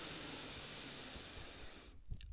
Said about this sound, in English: breathing in through the nose